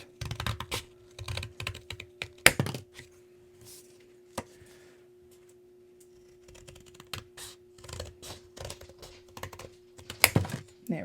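Scissors snipping through folded paper while a 3D paper sun is crafted, giving irregular clusters of close, dry crunching cuts and rustles with short pauses between, fairly quiet against a faint steady hum.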